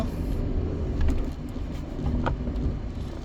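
Road traffic rumbles steadily nearby with low engine drone from passing cars and heavier vehicles, and a few brief clatters cut through. No one speaks over it.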